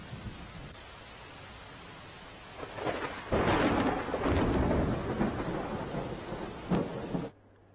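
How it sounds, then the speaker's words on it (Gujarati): A heavy downpour in Madhavpur, Gujarat, with a deep rumble of thunder swelling in the middle, loud and continuous before cutting off abruptly at the end. "પોરબંદર બાદ માધવપુરમાં ધોધમાર વરસાદ"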